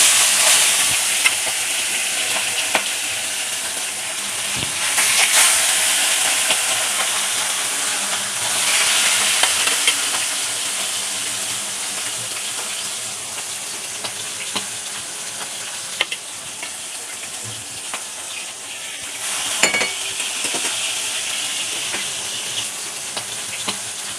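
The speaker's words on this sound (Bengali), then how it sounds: "মাছের পিসগুলো তেল বেশ সুন্দর গরম হওয়ার পর আমি ছেড়ে দিয়েছি" Hilsa fish pieces frying in hot mustard oil give a steady, moderately loud sizzle and hiss that runs throughout, with occasional sharper pops and crackles rising above it and no talking.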